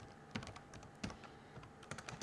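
Quick rattling keystrokes on a computer keyboard while a terminal command is typed, a close, steady patter with a few harder key hits, with no voice over it.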